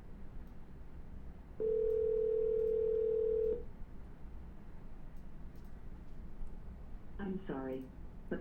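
A steady single-pitch dial tone from a cell phone call sounds for about two seconds over a constant background hiss, followed later by a brief burst of voice-like sound.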